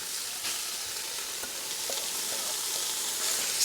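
Diced ham and garlic frying in a pan with caramelized onions, a steady bright sizzle and crackle close up with faint stirring clinks, in an outdoor kitchen, no talking.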